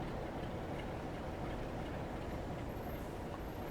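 A metro train in Train Sim World 6 rolls past as a steady, dense rumble with a soft rhythmic rattle of wagons, fairly quiet and continuous, with a faint high whine creeping in toward the end.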